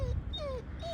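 A dog named Dina lets out several short, high whimpers that slide downward, close by over a low background rumble.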